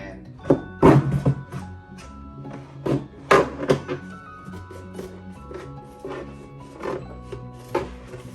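A utility knife slices a board down to size for a handlebar cue-sheet mount, giving a series of sharp, close thunks and scraping cuts in an irregular rhythm.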